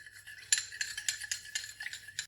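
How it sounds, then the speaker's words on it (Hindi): A spoon stirring an ingredient into a mixture, a quick run of close clinks and scrapes against the pot in an uneven rhythm, fairly quiet and with no talking. "ये 1 चमची, ये इसके अंदर अच्छी तरह आपने मिक्स करना है।"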